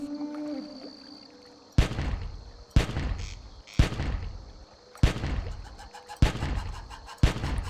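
Six heavy hunting rifle shots in Carnivores 2+, each a sharp, loud crack with a booming tail, fired at irregular intervals about a second apart, with no talk.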